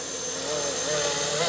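A FlishRC FL500 AH-1 Cobra 500-class ready-to-fly RC helicopter on its maiden flight gives off a steady, loud rotor and motor whine that swells slightly. Voices talk over it.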